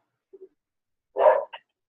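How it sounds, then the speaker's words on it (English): Lydia the dog gives a single moderately loud bark, preceded by two tiny faint yips and followed by a short softer woof, with no talk. "That was Lydia barking in celebration of her"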